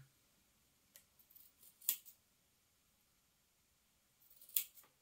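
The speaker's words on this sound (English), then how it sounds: "I'm just using my snips to cut those corners" Small snips cutting the corners of stretch fabric for a dragon cosplay dress, two crisp quiet snipping bursts a few seconds apart with faint handling noise between.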